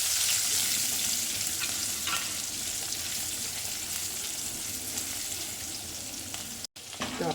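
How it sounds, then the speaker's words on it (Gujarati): Green chillies, curry leaves, a bay leaf and dried red chillies sauté in hot oil for sambar, giving a steady, close frying sizzle throughout with a faint stirring scrape and no voices. "એક તમાલપત્ર, 2-4 સૂકા મરચાં બરાબર સાતળી લેવાનું."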